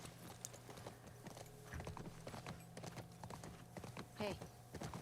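Horse hooves clip-clop in The Last of Us 2, a steady close trot over a low hum, with a brief snort or whinny near the end.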